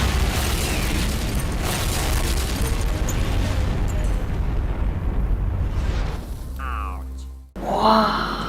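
Shot Baker, the underwater nuclear test blast at Bikini Atoll, sounds as a long, dense roaring rumble that holds loud for about six seconds, then breaks up into fainter mechanical noise before a final swell.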